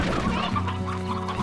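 Chickens in the video game Slime Rancher cluck in quick, steady bursts over a constant low hum of game background sound.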